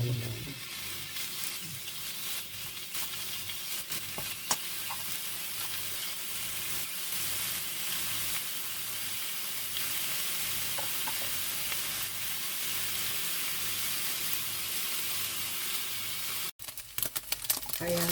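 Ground pork sizzles steadily as it fries in a pan with its fat rendering out, a dense continuous hiss broken now and then by faint stirring scrapes.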